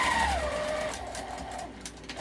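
A sewing machine runs steadily while back stitching the seam of a fabric wallet made from fat quarters, a continuous mechanical hum that eases off toward the end.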